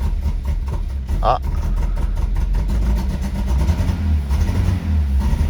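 The engine of a Peugeot 205 Roland Garros idles loud and close with a steady low rumble and slight unevenness, while a man briefly exclaims over it.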